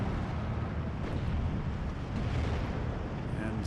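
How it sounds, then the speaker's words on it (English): Steel Division 2 artillery fire, a continuous heavy rumble of distant shelling and battlefield noise that runs steadily throughout, with no clear separate blasts. "I think that must have been artillery fire"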